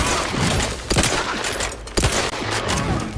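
Rapid, loud sniper and weapon fire in The Outer Worlds 2, overlapping shots and cracks in quick succession under a dense wash of combat noise.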